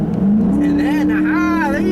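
A 2012 Dodge Charger R/T engine revving up as it accelerates after a hesitant, late downshift, a rising close-up drone with someone talking over it.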